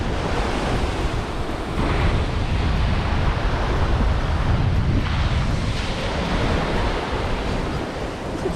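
Sea waves roll onto a beach in Zanzibar, a loud, continuous wash of surf with gentle swells and wind noise, no voices.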